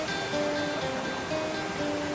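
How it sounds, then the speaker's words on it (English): Rushing water pours through the spillway of the Akosombo Dam, a steady broadband roar that holds level and continuous throughout, with no voices over it. "you are within touching distance of a gushing water through the turbines"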